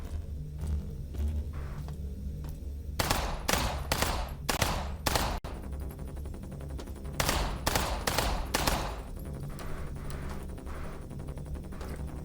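Video game gunfire: bursts of rapid shots in two clusters, a run of loud cracks near the middle and another volley later, over a steady low rumble of background noise.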